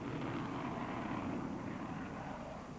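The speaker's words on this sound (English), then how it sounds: "This was the moment that British pilots and British planes took off to play their part in the Allied" RAF Tornado jets taking off produce a steady, distant broadband roar at low volume, continuous throughout with no voices over it.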